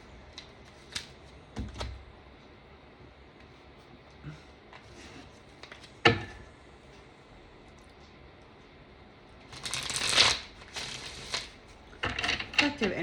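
A deck of cards being shuffled at a table, with scattered soft clicks and taps followed by two short, crisp riffling bursts, all faint and close.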